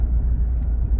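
Ford F-150 PowerBoost hybrid pickup drives along with a loud, low, steady rumble of engine and road noise from inside the cab, with no talk.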